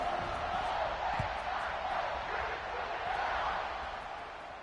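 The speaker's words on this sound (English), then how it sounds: "this crowd is buzzing after that last score" A stadium crowd at a football game keeps up a broad, continuous roar and buzz after a score, distant and steady throughout with faint cheering and no clear peaks.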